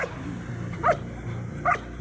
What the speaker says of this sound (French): Lorsque les chiens aboient, ils s'entendent de loin dans la montagne.